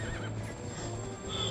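A horse in the video game The Legend of Zelda: Twilight Princess on GameCube whinnies, with steady clip-clop hoofbeats under a continuous wash of game music and ambience, alone without talk.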